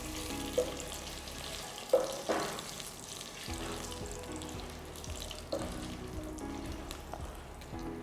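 Whole spices, including dried red chilies, green cardamom and broken cinnamon sticks, sizzle faintly in hot oil, with a few sharp clinks and scrapes of a pan over a soft steady fry.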